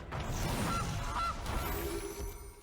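Two short goose honks ring out as a creature card is played in MTG Arena, the Magic: The Gathering digital card game, standing clearly above a steady bed of game background sound.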